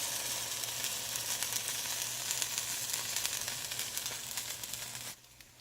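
Vegan French toast frying in a pan, a close and steady sizzle that carries for several seconds before cutting abruptly quieter near the end.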